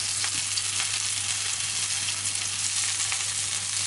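Garlic and onion sizzle steadily in hot oil in a pan, a loud, dense, continuous crackle with no talking.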